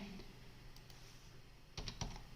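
Soft, faint keystrokes as numbers are typed on a computer keyboard into an Excel spreadsheet, a few quiet taps clustered near the end over low background hiss.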